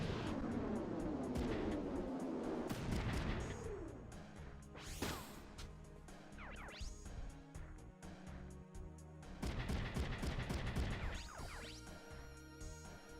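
Missiles firing and exploding in the mecha video game Front Mission 3, loud crashing blasts and whooshes in a busy stretch of game audio, with repeated impacts throughout and no talk.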